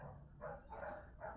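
Large dogs bark back and forth over a neighboring fence in a few short muffled bursts, faint and distant, with no talk.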